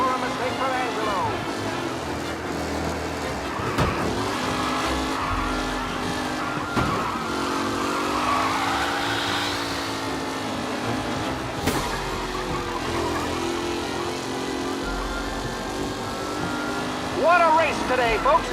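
Race cars in the video game Mafia roar past with sustained engine drone and rising and falling pitch, a couple of sharp whooshing passes and brief tire squeal, loud and continuous under commentator speech.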